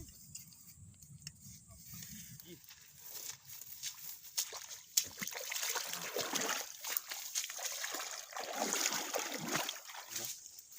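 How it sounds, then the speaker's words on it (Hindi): River water flows and splashes, starting with a low rumbling murmur and then turning into irregular sloshing and splattering that builds and stays moderately loud, with no talk. "इतनी खतरनाक नदी"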